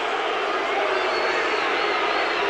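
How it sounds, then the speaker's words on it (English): A basketball arena crowd at the Coors Event Center roars and cheers in a continuous dense wash of noise, loud and sustained throughout with no break. "That has the crowd going here at the Coors Event Center."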